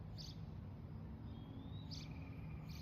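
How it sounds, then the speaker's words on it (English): A bird sings outdoors in a garden, a few brief high chirps standing out faintly over steady low background rumble. "Boy, that bird is really going at it."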